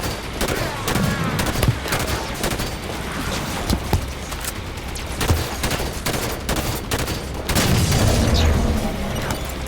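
Rifle gunfire in the video game Halo 5: Guardians, rapid repeated shots and booming blasts in a dense, loud barrage throughout, with explosions mixed in.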